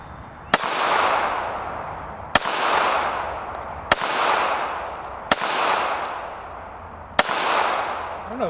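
Five sharp, loud gunshots from a Smith & Wesson Bodyguard 2.0 pocket pistol, fired singly at uneven intervals of roughly one to two seconds. Each crack is followed by a long ringing echo that fades before the next shot.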